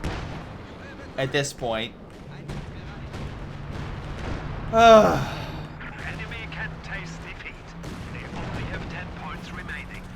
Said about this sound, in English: good shots from the artillery, from like the howitzer and such